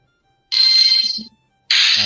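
Two bursts of a bright electronic mobile ringtone from a mobile game, loud and close, each lasting under a second with a short gap between them, with faint low sounds underneath.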